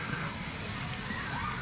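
Water sloshes and splashes steadily on the lazy river at Aquatica waterpark, SeaWorld Orlando, close by, with faint voices in the background.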